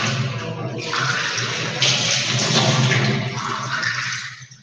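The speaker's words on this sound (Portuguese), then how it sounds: "joga bastante água" Water poured generously over quantitative filter paper to rinse it, a steady splashing, rushing pour that swells midway and tapers off at the end, close and loud, with no talking.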